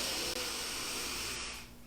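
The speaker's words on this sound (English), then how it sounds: "Take a deep breath in." A single long, deep breath drawn in during pranayama breathing practice, a steady airy hiss held close and loud for nearly two seconds before tailing off.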